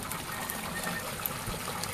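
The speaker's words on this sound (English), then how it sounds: "The water flowing back from the beds on this side, in this bed, which is just starting to flush right now" Water flushing out of an aquaponics grow bed and pouring back into a fish tank, a steady soft gushing trickle that runs continuously at low level.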